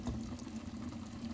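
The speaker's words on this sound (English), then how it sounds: "Just gonna pour some of the sauce over it and some of the vegetables" Curry sauce in coconut milk poured over salmon on a plate, a soft continuous wet splash and trickle with a low steady hum underneath, close and moderately quiet.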